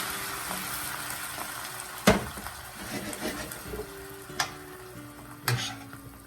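White wine hits a hot pan of stuffed chicken breast, giving a steady close sizzle and bubbling with occasional stirring scrapes and clanks.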